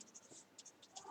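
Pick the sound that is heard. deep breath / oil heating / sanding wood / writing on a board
writing on a board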